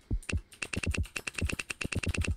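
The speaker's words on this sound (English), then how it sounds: "Start typing." Rapid typing on a computer keyboard during a movie trivia quiz game, a steady run of crisp, close key clicks with a few heavier strokes, loud and alone with no talk.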